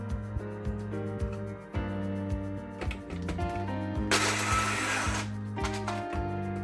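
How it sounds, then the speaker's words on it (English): A small electric blender whirs in steady, slightly uneven pulses while trying to crush cookies, with a short burst of harsher grinding noise near the end; moderately quiet and close. "I'm gonna try this blender to crush these cookies"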